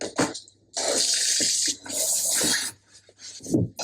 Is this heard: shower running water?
yes